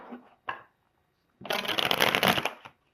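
Tarot cards being shuffled in a reading session: a brief riffle-like burst early, then a longer, dense papery shuffle of about a second, close and fairly loud, with no talking.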